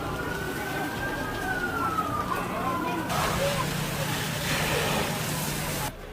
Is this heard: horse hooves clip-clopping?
no